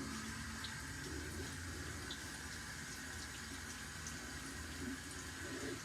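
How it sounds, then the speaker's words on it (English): Water runs steadily from a bathroom sink tap as a face is wetted, a faint continuous hiss with small splashes and no talking. "So now I will wet my face down."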